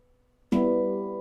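A chord struck on a Halo Aegean handpan with the low E note rings out after a moment of quiet, loud and close, with a bright attack and long, steady harmonic sustain that slowly fades.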